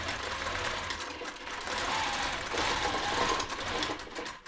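A sewing machine quilts a fabric wall hanging in one continuous run. The stitching whirr is loud and close and holds a steady pace throughout.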